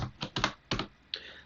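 Keys clack on a computer keyboard in a few short bursts, a handful of quick presses close to the microphone, with no voices.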